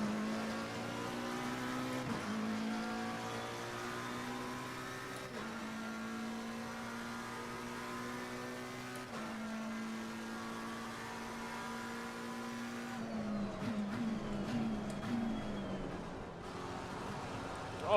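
A McLaren 720S GT3 race car in Assetto Corsa Competizione laps Kyalami in cold conditions, its engine a steady, loud harmonic drone that shifts pitch at gear changes, with a rougher burst of revving and tire noise near the end.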